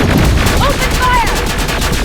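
Sustained gunfire battle in the video game Terminator: Resistance, dense continuous shots at steady loudness with whistling tones over it and shouted voices mixed in.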